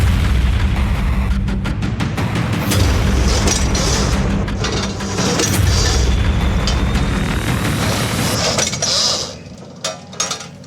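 A 152-caliber artillery gun on a mobile mounted gun platform fires amid a dense, continuous roar of booms and mechanical rumble, loud and sustained before easing near the end.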